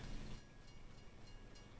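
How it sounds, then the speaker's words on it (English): A train passing in the video game Farming Simulator 22, heard as a short, steady, low rumble with a faint mechanical rattle and no pauses. "Oh, there's the train again."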